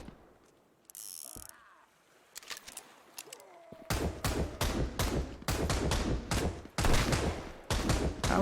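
Pistol gunfire in the survival video game Sunkenland: a quiet stretch of scattered mechanical clicks, then a rapid run of about a dozen sharp, loud shots at uneven intervals, with no speech.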